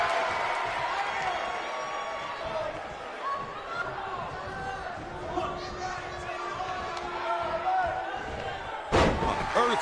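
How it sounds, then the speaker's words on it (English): A heavy power slam impact from the WWE 2K19 wrestling video game lands as one loud, booming thud near the end, over steady arena crowd noise and ongoing commentary talk. "Earth-shaking power slam."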